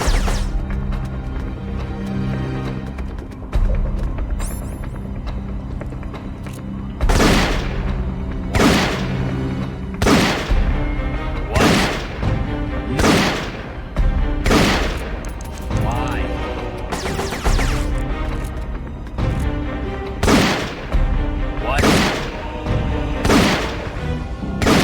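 M63 machine gun in Metal Gear Solid Portable Ops fires in sharp repeated bursts over steady game music, about a dozen loud booming shots spaced through the stretch, with a voice talking between them.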